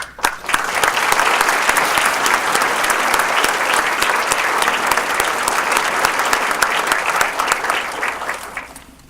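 A conference audience at a university water awards ceremony applauds an award-winning watershed project coordinator: a dense, steady wash of clapping that holds at full strength for about nine seconds and then tapers off.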